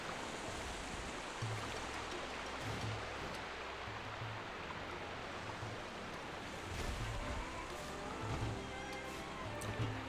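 Continuous rushing water from a waterfall in the Pokémon Violet game, a steady broadband roar with low surf-like swells, moderately quiet, with faint low tones and no talking.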